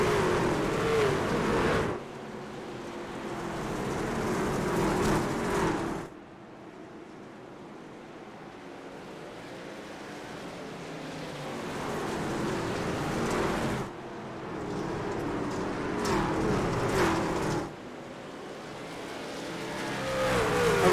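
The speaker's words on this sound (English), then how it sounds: "Relatively clean start for the Outlaws boys as they roar back into turn number 1." Dirt race cars in iRacing at Bristol Dirt, a pack of Outlaws sprint cars roaring into turn one, engines swelling and fading in loud waves with no voices.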